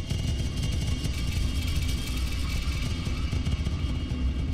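A Sonuscore Nordic Spheres synthesizer sustains a D note while the mod wheel moves, producing a dense, continuous pad with a rumbling low end and shimmering high tones that drift slowly throughout.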